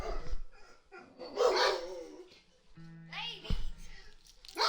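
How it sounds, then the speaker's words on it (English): A pet dog barks and whimpers in excited bursts at something passing on the road outside, mixed with a voice talking over it at close range. "my dog went nuts because I heard something go down the road"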